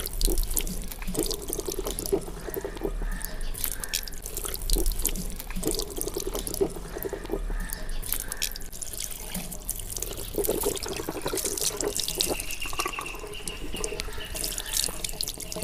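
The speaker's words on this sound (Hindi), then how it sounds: "थोड़ा सा पानी चलाना है।" Tap water running over hands during ablution washing, a steady close splashing stream that breaks and spatters as the hands move through it, with no talk.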